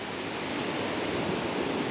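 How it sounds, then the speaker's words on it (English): Ocean waves washing against the shore, a continuous broad rushing surf heard close with some wind buffeting, no voices. "Look at the waves hitting it"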